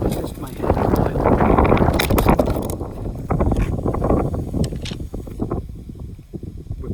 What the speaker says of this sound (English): Big gust, but we're good.